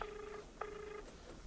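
Faint cellphone call tones while dialing: short electronic beeps in a repeating pattern, about three tone bursts, heard alone in quiet surroundings.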